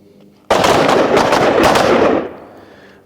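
A sustained, loud volley of carbine gunshots from several shooters firing together from the high ready position on a range, close and overlapping for about two seconds before it tapers off.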